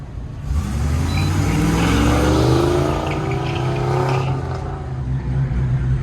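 Freebird Trans Am GTA drag car launching off the line at a Goodguys shootout in Pleasanton, a loud sustained engine roar rising in pitch for several seconds, then easing off, with no talk over it.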